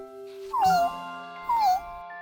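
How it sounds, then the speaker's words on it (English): A young kitten in a children's cartoon meows twice, each cry a short, clear, downward-sliding mew with a pause between, heard alone over a faint musical background. "His job was to watch Professor Wiseman's new kitten, Lucky, who was too young to take care of himself"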